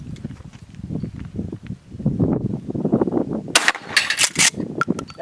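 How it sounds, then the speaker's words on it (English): A Remington 870 pump shotgun fires slug rounds at about 20 to 25 yards, a sharp loud blast cutting through low rumbling handling noise, followed by a few quick echoing cracks. "I'll shoot a couple rounds of slugs, and then I'll shoot one round of number"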